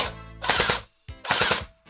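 An Unlocx V1 gel ball blaster pistol fires two quick bursts of rapid shots, each a short rattling string of close, sharp pops separated by a brief pause.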